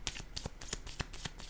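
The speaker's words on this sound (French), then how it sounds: "Je vais déposer une autre carte." Tarot cards being handled and laid down one after another, a run of crisp papery flicks and slaps in quick, uneven succession, close and fairly quiet.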